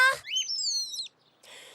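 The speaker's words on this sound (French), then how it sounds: "le petit oiseau lui a dit au revoir" A little cartoon bird lets out a bright, rising and falling whistled chirp, close and clear, after a brief squeaky vocal blip, followed by a softer fluttery trill.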